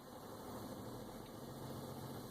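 A semi truck tractor's diesel engine runs steadily with the tractor brakes set, a dense low rumble and hum that holds constant throughout, close and loud, with no talk.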